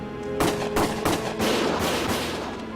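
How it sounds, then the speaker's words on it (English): Rapid bursts of gunfire from a war-themed video game, several sharp cracks in quick succession like automatic fire over a noisy battle background. "Gunfire!"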